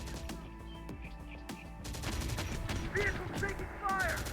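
Gunfire striking a vehicle in Terminator: Dark Fate - Defiance, a dense run of sharp shots and impacts over a low rumble that grows louder in the second half, with brief radio chirps and whines.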